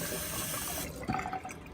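Tap water runs steadily into a sink as a makeup foundation brush is passed through it, a close hissing flow that cuts off partway through, followed by faint drips and handling.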